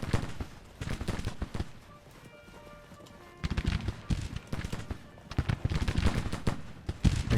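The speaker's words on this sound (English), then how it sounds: "we can get Pond's battery to actually do something and open fire" A Union artillery battery in a Civil War campaign game opens fire, with irregular booming shots and crackling bursts arriving in clusters between quieter stretches of battlefield ambience, loud and near.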